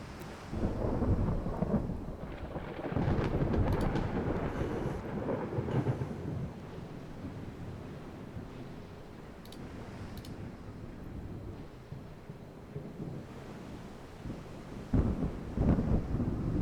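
A stormy sea in a naval warfare game, with rumbling thunder and steady rain filling the whole stretch, loud bursts of thunder near the start and again at the end, no talking.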